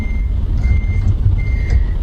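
A virtual truck reverses slowly in American Truck Simulator, its reversing alarm beeping steadily over a low, rumbling diesel idle, close and continuous with no talk.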